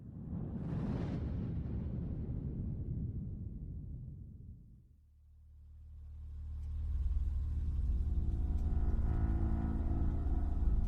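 A car engine idles in a dramatized crime reconstruction, a low steady rumble with a droning hum that swells in after a fading whoosh and holds on, close and without speech.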